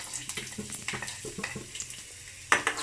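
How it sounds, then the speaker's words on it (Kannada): Ginger-garlic paste with onion frying in oil in a home kitchen, a steady sizzle broken by scraping and stirring clinks, with a louder burst of sizzling and clatter near the end. "ಸೊ ಶುಂಠಿ ಬೆಳ್ಳುಳ್ಳಿ ಹಾಕೊಂಡು ಒಂದು ಸ್ವಲ್ಪ ಫ್ರೈ ಮಾಡ್ಕೊಳ್ಳಿ."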